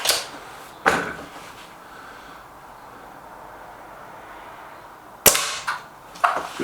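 A Crosman Silverfox Nitro Piston air rifle fires two sharp, loud cracks several seconds apart. Each shot is followed by a quick metallic clack, with only quiet room background in between.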